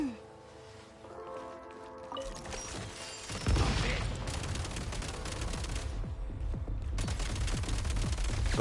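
Rapid gunfire in the action game Genshin Impact, a dense rattling barrage that swells partway through and keeps going over a busy, loud game soundscape.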